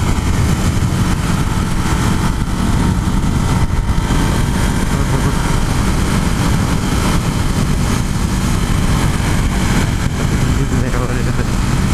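A Ducati Hypermotard 821 motorcycle engine riding at steady speed, a constant loud droning rumble blended with heavy wind noise and a voice talking over it.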